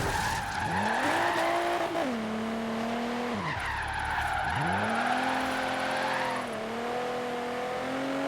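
A car drifting in Forza Horizon 3, its engine revving and wailing as tires squeal continuously through long slides, with revs dropping and climbing again between drifts.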